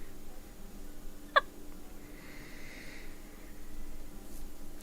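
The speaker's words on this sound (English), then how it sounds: "Can I give you the hiccups now? I always have hiccups." A single sharp hiccup stands out briefly against quiet room noise, with a faint murmur behind it.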